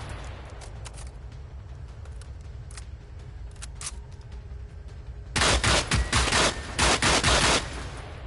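Rapid gunfire aimed at a tank robot in the video game Generation Zero: quiet ambience with scattered clicks at first, then a loud, dense burst of automatic shots in the final few seconds.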